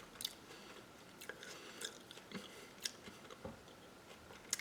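Crisp bites and chewing on a raw banana flower piece, a series of sharp crunchy snaps spaced irregularly, close and quiet.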